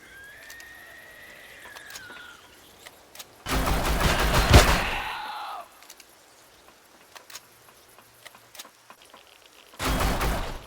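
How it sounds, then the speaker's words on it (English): Shotgun fire in Empyrion Galactic Survival comes in two loud, dense bursts of rapid blasts, one long and one short at the end, separated by quieter game noise and a rising tone. "The shotgun just shoots way too fast."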